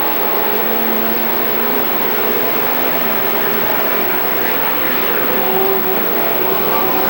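Race cars roar continuously around the track at Billings Motorsports Park, a loud, dense engine drone that holds steady throughout with no pauses.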